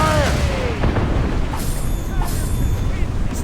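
Ship cannons booming during a naval battle in Assassin's Creed Rogue, several heavy blasts in a row over crashing water and combat noise, with crew voices shouting amid the din.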